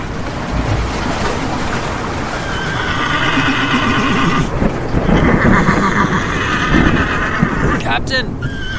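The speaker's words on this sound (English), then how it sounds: "This specific kind is called the Chincoteague pony." Chincoteague ponies neigh and whinny loudly and repeatedly, with hooves clip-clopping over a steady wash of boat engine and sea waves. Voices talk underneath, and the whinnies rise in bursts across the middle and end.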